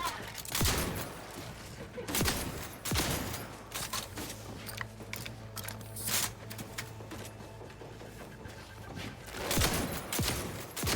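Repeated shotgun blasts in The Outer Worlds 2, loud sharp bursts spaced irregularly through the clip over a steady game hum, with footsteps and movement between shots.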